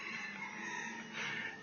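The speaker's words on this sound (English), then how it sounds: "Look at the chickens, how they act." Chickens cluck and call close by, a short stretch of busy fowl chatter with a rising crow-like cry near the end.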